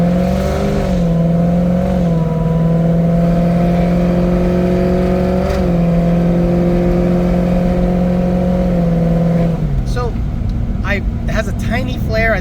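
Car engine on a test drive with an LRX tune, droning steadily under load for several seconds with brief revs, then dropping off as the throttle lifts.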